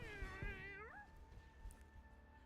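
A single drawn-out cat meow in the game Overwatch rises and bends in pitch, then holds a steady tone, close and fairly clear over faint background noise.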